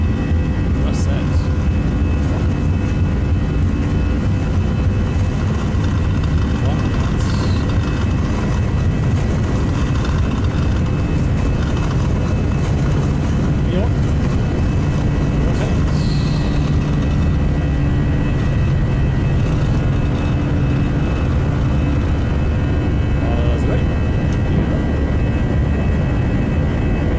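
Toliss A319 airliner engines in X-Plane 12 roar loud and steady at takeoff thrust, a dense continuous drone with a whining tone on top, while a voice speaks over it now and then.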